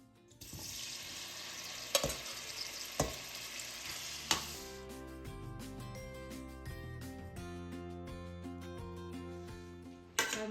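Spices temper in hot oil for a yogurt and mixed vegetable dish, a loud crackling sizzle with a few sharp clinks of a utensil on the pan, after which the frying softens under tonal background music.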